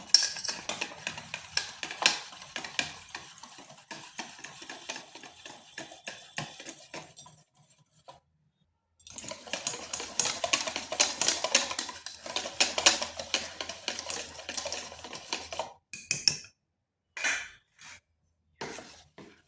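Flour batter whisked by hand in a bowl, a steady rapid run of light clinking and scraping strokes, pausing briefly midway and breaking into short bursts toward the end, close and fairly quiet with no talk.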